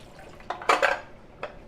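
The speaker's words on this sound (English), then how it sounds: "But I want to rinse my pan." Water runs over and rinses a frying pan in a kitchen sink, with a few clanks and splashes of metal against the basin, brief and moderately close, with no talk.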